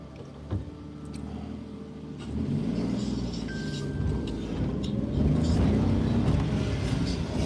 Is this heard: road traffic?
yes